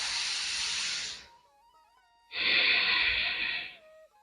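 Two long, forceful breaths rush out during a yoga breathing exercise, each a steady, loud, close hiss lasting more than a second, separated by a quiet gap that holds only a faint tone, with no talking.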